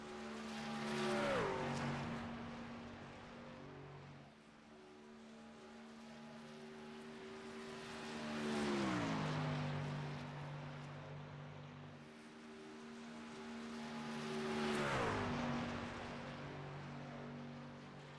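Racing trucks in the iRacing video game at Las Vegas Motor Speedway, engines droning as they pass on the backstretch, three separate swells of rising and falling pitch, each fading away without talk.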